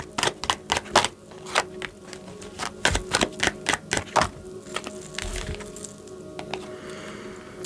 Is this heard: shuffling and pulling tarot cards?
yes